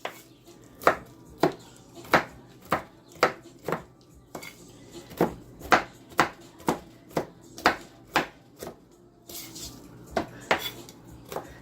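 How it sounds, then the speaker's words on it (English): A big knife rough-chops walnuts on a cutting board for coconut flour banana bread: a steady run of about seventeen sharp, close knocks at an even pace, with no talking. "you're gonna chop, just rough chop the walnuts"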